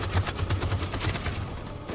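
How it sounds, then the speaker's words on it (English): Rapid machine gun fire from a battle in the video game Detroit: Become Human, a steady crackling stream of shots at moderate level throughout, with no talk over it. "That machine gun is taking down everything that moves."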